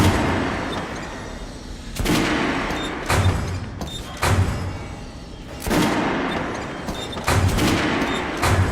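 Repeated gunshots test-fired at a shooting range in Metro: Last Light Redux, a series of sharp cracks every second or so with booming tails and a quieter rumbling between them, no talk.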